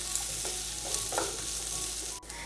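Onions being stirred and sautéed in a pan over medium flame for a cabbage matar masala, a steady close sizzle with soft scraping stir strokes throughout and no voices.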